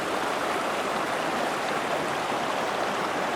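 Pine Creek rushing past as a wide, flat mountain stream, steady close broadband water noise with no gaps and no voices.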